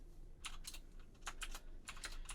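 Fingers tap on a computer keyboard in short bursts of several quick keystrokes separated by brief pauses, close and fairly quiet over a low hum.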